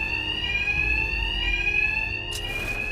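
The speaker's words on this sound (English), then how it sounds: "My attacks will be covered by the noise of the alarm." Steady electronic alarm ringing inside Batman: Arkham Knight, a loud continuous high-pitched tone with harmonics and no break, filling the whole moment with no voices over it.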